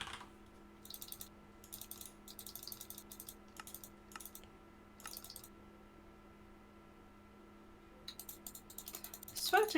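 Bursts of computer keyboard typing and mouse clicks during Minecraft play, coming in clustered runs with quiet gaps over a steady low hum, fairly faint and close-miked.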